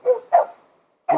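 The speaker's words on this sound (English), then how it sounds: "Good dogs." A dog named Stu barks during training, two quick close barks followed by a brief pause and a third starting abruptly, loud and sharp against otherwise quiet surroundings.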